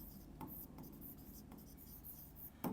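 Pen or pencil scratching on paper in a quiet room, a few soft strokes spread across a short stretch, faint and close, with one slightly louder scrape near the end.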